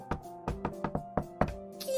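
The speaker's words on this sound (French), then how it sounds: "Arrivé devant la maison, il frappa à la porte." Knocking on a wooden house door in a fairy-tale scene, a quick series of about seven sharp raps in uneven groups, close and clear, with no voices.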